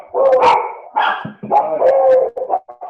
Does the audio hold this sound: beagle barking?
yes